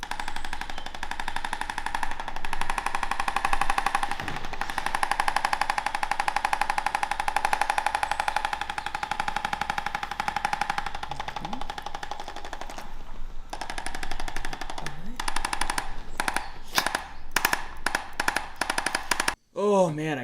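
A percussion massage gun runs on a person's body, buzzing in a steady rapid drone, then breaking into choppy bursts with pauses near the end, while people talk over it.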